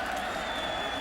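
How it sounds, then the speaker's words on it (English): Sellout crowd of 53,000 at War Memorial Stadium during a 2001 South Carolina vs. Arkansas college football game, a loud, steady roar throughout. "It's not a big stadium, but it's very loud."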